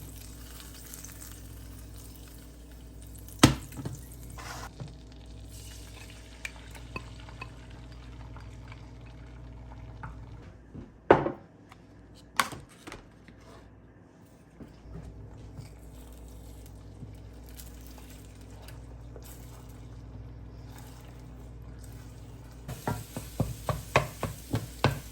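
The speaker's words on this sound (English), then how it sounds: "last but not least is time to scramble some eggs" Eggs being scrambled in a home kitchen pan, a constant low sizzle broken by scraping stirs and occasional sharp clinks of a utensil against the pan, with a cluster of quick taps near the end.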